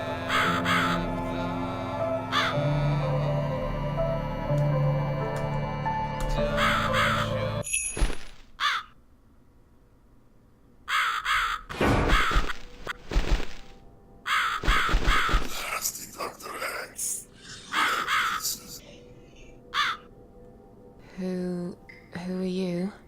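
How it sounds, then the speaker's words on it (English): A crow in the video game The Cat Lady caws in several harsh, separate bursts after a stretch of music, with quiet gaps between the calls. "I am the Crow, of course."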